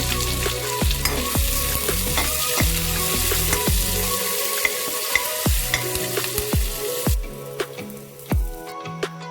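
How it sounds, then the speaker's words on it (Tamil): Onions and curry leaves sautéing in oil in a pan for a vegetable sambar, with a steady loud sizzle throughout and occasional stirring clicks and scrapes near the end. "வெங்காயம் கருவேப்பிலை போன்றவற்றை நன்றாக வதங்களுக்கு"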